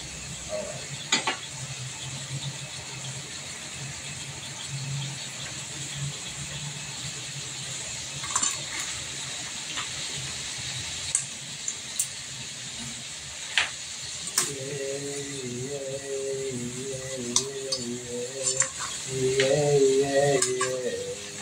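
Shrimp and crab frying in a pan, a constant crackling sizzle with scattered ticks and scraping as the seafood is stirred and turned, growing busier toward the end; no one speaks.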